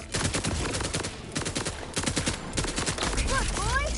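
Rapid bursts of shotgun fire from Borderlands 4 gameplay, loud, dense repeated blasts across the clip, with game effects and a rising synthetic whine near the end.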